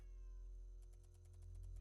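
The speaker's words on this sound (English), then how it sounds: "The cat meows again." A cat meows in a drawn-out cry, close and moderately loud, over a low steady hum and faint rhythmic background pulses, with no talking.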